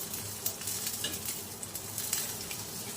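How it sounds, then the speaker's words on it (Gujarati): A Kutchi street-style dabeli bun roasts in oil on a pan until crispy, giving a steady, close sizzle and frying crackle throughout, with faint stirring or scraping accents and no voices. "જ્યાં સુધી ક્રિસ્પી થશે ત્યાં સુધી આપણે એને શેકીશું."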